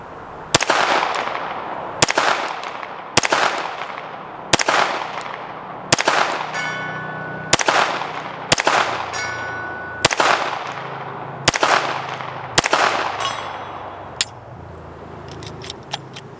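A PSA Micro Dagger C-1 pistol fires mild, suppressor-oriented loads at targets 100 yards away, making about eleven sharp, loud shots spaced roughly one second apart, each with a short ringing tail.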